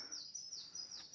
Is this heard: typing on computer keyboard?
no